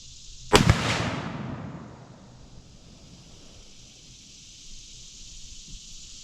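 A single loud rifle shot fired at a target while sighting in for rifle season, a sharp crack close by followed by a long rolling echo that fades into steady outdoor background noise.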